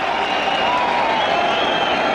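Cricket crowd in Mohali applauding a stroke at an India–New Zealand Test match, a dense, steady wash of clapping and cheering from a large stand, filling the moment without pause.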